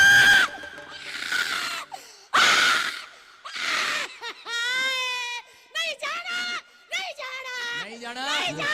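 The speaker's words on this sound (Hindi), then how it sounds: "इसी समय वो चीख रही है और जा रही है और निकल रही है।" A woman screams and gasps in loud, high-pitched bursts during a live prophecy prayer gathering, with wailing cries and crowd voices mixed around her, the outbursts rising and breaking off repeatedly.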